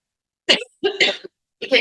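A person gives a few short, close coughs in separate bursts, with quiet pauses between them.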